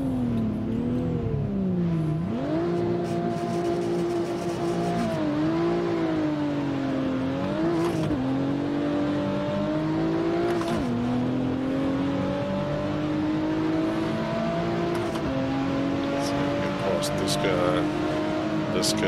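Race car engines drone steadily in the Assetto Corsa racing game online, pitch climbing and dropping through gear changes and corners, with someone talking throughout over the engine noise.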